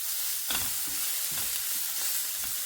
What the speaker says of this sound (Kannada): ಸ್ವಲ್ಪ ಸಾಫ್ಟ್ ಆಗಿರೋ ದಂಟನ್ನೆಲ್ಲ ಹಾಕಿ ಹುರಿತಾ ಇದ್ದೀನಿ